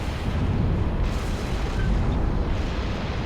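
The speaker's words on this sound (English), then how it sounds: "What is still exploding?" Continuous explosion rumble from a Covenant ship bombarding a planet in Halo Reach, a dense, steady low roar of blasts lasting throughout, loud and heard with no talking.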